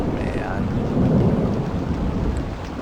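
Heavy thunder rumbles through a rainstorm in the zombie survival game The Dead Linger, a low sustained roll swelling midway over steady rain hiss, with no voices.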